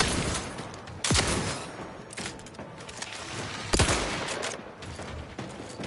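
Gunfire in The Outer Worlds 2, a burst of shots ringing out loud and close, with two sharp louder blasts standing out from a steady rattle of in-game combat noise.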